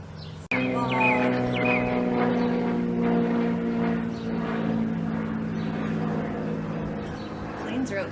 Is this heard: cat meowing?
no